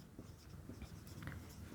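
Chalk or marker writing on a board during a math lecture on surface integrals, soft scratchy strokes repeating faintly across the moment with no talk.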